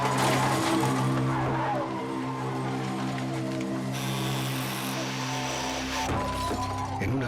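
A car skids with a long tire squeal, then crashes with a sharp smash and shattering glass in a traffic accident. The sound is loud and continuous throughout, with no voices.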